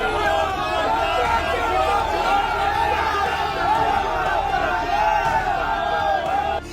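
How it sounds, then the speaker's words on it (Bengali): A large, angry crowd in Barrackpore chants 'thief, thief' slogans while driving out Raj Chakraborty after an election, a loud, unbroken wall of shouting voices and babble that holds for several seconds. "চোর চোর বলে স্লোগান দিয়ে ব্যারাকপুর থেকে তাড়িয়ে দেয়া হলো"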